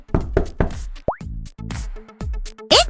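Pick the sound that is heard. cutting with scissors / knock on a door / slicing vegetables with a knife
knock on a door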